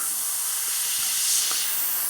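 Iwata TRN1 airbrush spraying paint in fine, thin lines: a steady, faint, airy hiss that runs evenly for about two seconds, with no voices present.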